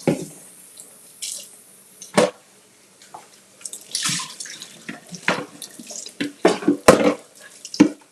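A bowl is rinsed under a running kitchen tap, with close, uneven bursts of splashing water and clatters as the bowl is moved and tilted, some pauses between gushes.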